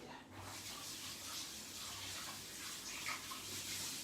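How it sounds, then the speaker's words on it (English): Tap water running while hands are washed after cracking eggs, a soft, continuous splashing flow heard close and fairly quiet, without talk. "I'm gonna wash my hands out of that cracked those eggs"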